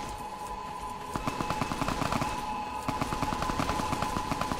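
Gunfire in Fallout New Vegas, rapid bursts of automatic shots in a rattling rhythm over a steady hum, fairly close and sustained for several seconds.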